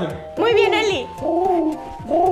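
A person imitates a pigeon's coo in a comic humor sketch, giving several throaty, warbling cooing calls in a row, up close, with brief speech from others around them.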